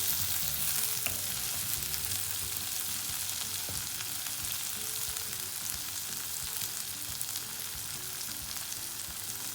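Onion, tomato and chili fry in a pan for a curried egg dish, a loud, steady, close sizzle with faint stirring scrapes and no talking.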